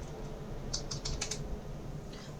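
Fingers typing an SQL query on a computer keyboard, a quick burst of several close, crisp key clicks in the middle, with quiet room hiss around them and no talk.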